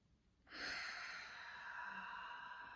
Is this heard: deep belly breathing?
yes